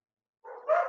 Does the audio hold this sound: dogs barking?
yes